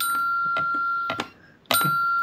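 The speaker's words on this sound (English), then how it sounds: "I'm going to be hearing ding dong." A doorbell rings on Halloween night for trick-or-treaters: a sustained electronic chime tone with a couple of soft dings, a short pause, then the tone resumes.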